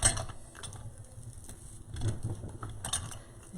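A steel pick machine crimping picks for a rustic Christmas wreath, giving close mechanical clicks and ratcheting clunks in uneven bursts with no talk.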